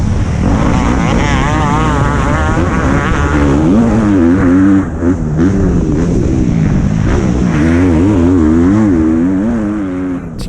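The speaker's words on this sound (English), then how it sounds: "Getting that two-stroke singing." A two-stroke MX2 motocross bike races at a Brookthorpe AMCA championship round, its engine close and loud as it revs hard, the pitch climbing and dropping through gear changes with a brief dip midway. No one speaks.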